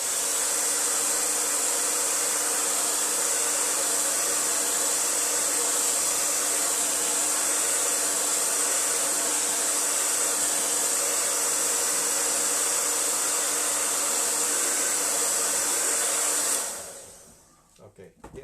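A hair dryer blows steadily to dry a forest sunlight acrylic painting, a loud continuous airy whir with a hissing edge that runs unbroken for about seventeen seconds, then cuts off abruptly.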